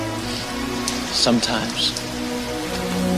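Steady rain from the film The Crow pours throughout as a broad hiss, with brief voices and some scattered noises over it partway through.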